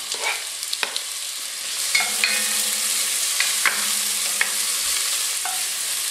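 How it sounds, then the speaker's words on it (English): Chopped medium white onion and a large clove of garlic sizzle steadily in hot olive oil in a pan, with a few sharp clinks of a utensil stirring the pan. "I'm going to add a medium white onion that I chopped and a large garlic clove"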